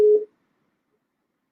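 A single short telephone busy-signal tone after a caller hangs up, heard once and loud, then silence.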